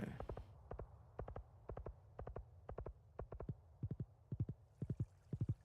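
Horse hooves clip-clop at a steady walking rhythm while riding in a video game, crisp paired beats repeating about twice a second, close and clear with no talk.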